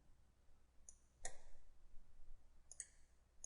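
Sharp mouse clicks during CAD modeling work in SolidWorks or Inventor, a faint single click followed by a louder one, then a short cluster of two or three quick clicks later, close and isolated against quiet background hiss.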